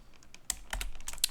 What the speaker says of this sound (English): I'm pressing Shift and Control and the plus sign on the keyboard to do that.